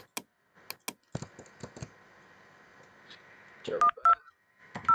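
Telephone dialing tones in a Packet Tracer VoIP simulation: sharp keyboard clicks, then a faint steady hum, followed by a few short, loud beeping tones near the end.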